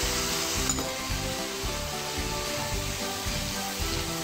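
Minced meat sautéing in a pan with salt, chili and turmeric gives a steady, close sizzle and crackle with faint stirring and no voices.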